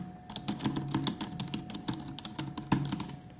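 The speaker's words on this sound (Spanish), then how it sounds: "Este teclado, chicos, es suavecito y silencioso." Steady typing on a soft, quiet computer keyboard, a dense run of light, muffled key taps at close range with an even rhythm, and a faint constant hum underneath; no talking.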